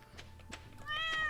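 A cat in the farming game Stardew Valley meows when petted, with a brief rustle followed by a single clear, rising meow toward the end, close and fairly loud.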